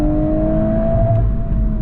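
Volkswagen Golf R engine held at a steady high-rpm drone near the limiter, loud and close, with a faint exhaust pop; no voices.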